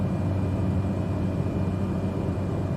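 Cessna 208B Grand Caravan turboprop on final approach to runway 35 at McKenzie in a flight simulator, a steady, loud, even engine drone with broadband cabin noise, continuous and unchanging with no talk.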